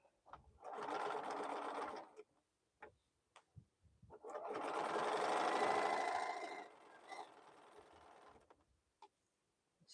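A sewing machine stitches a quilted fabric bowl cozy in two sustained runs, a short burst and then a longer steady whir, with brief stops and small clicks between them.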